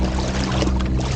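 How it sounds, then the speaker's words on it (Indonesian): A 24-pound trolling motor pushes a fishing kayak across the water, with a loud, steady hum from the motor blended with close water rushing and trickling against the hull, unbroken and without talk. "di posisi saat ini gue lagi pakai trolling motor ya 24 pound yang menghasilkan tenaga yang sama seperti pedal lain"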